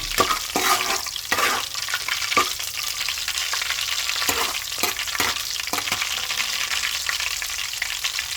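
Garlic fries in groundnut oil in a pan for veg Hakka noodles, giving a steady close sizzle broken by scraping stirs at irregular intervals, with no talking.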